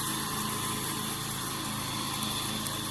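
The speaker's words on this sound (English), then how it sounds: "this is his first time mowing on a riding lawnmower and at this house" A riding lawnmower mows a residential lawn, its engine giving a steady, loud drone with a high whine, running without pause and with no talking.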